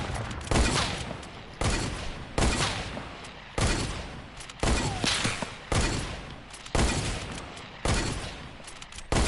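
Bursts of gunfire from the video game Fortnite, about eight loud volleys spaced roughly a second apart, each sharp onset trailing off into a rattling tail.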